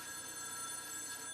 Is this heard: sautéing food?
no